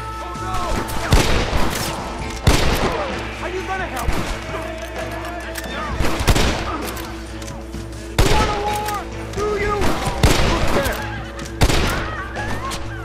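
Repeated gunshots from the Red Dead Redemption video game in the town of Blackwater, loud sharp cracks every second or two over a steady game background, with some voices mixed in.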